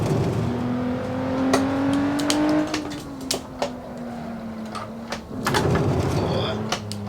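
A race car in the Assetto Corsa video game carries momentum through corners, its engine drone holding a steady tone that rises and falls with a few sharp clicks and knocks layered on top.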